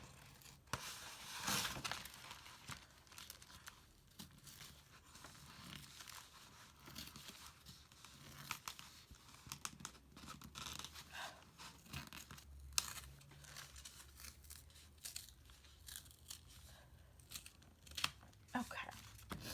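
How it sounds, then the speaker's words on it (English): Paper being torn out of a handmade envelope booklet, a quiet ripping and crinkling that runs in scattered bursts with soft rustles between, while a person talks over it close by. "Oh yeah, I'm gonna tear that one out."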